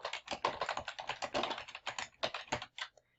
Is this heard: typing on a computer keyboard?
yes